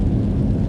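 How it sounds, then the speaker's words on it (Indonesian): Rain falls outdoors on a cool day along a road, a steady, dense low rumble and hiss with no breaks, loud and close. "Tempatnya hujan"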